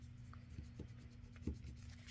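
Soft pencil strokes on paper for a journal tag, faint and close, a few brief scratchy marks over a low steady hum with no talking.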